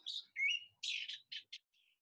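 Small birds chirp and tweet outdoors in a residential neighborhood, a quick run of short bright calls and a trill, faint and at some distance in otherwise quiet surroundings.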